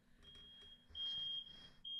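A household smoke alarm set off by cooking downstairs keeps shrieking in sharp high beeps, two pulses in quick succession, faint and somewhat distant beneath low room noise and a soft hum.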